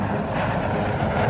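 An airliner drones overhead on its route northwest over Scotland, a loud, steady broadband engine roar with no break.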